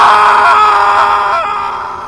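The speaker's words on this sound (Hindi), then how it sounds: "करीब करीब रात के 1 बजे अनिल चौधरी के घर से एक आदमी चिल्लाने की आवाज आती है।" A man screams at night, a loud, strained, sustained cry that holds then fades and trails off over about two seconds.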